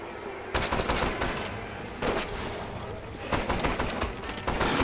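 Bursts of rapid gunfire from a shooter video game crack in clustered volleys at close range, repeating several times over a steady bed of game noise.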